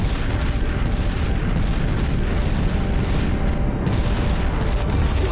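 Heavy weapons fire on the Celestial in a video game battle, a dense and loud barrage of booming, rumbling blasts that runs on without a break.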